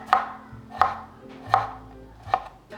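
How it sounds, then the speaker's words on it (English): A knife chops small baby pickles on a cutting board in four sharp, evenly spaced strikes, close and crisp, with no talk. "I'm gonna chop up one of these little baby pickles"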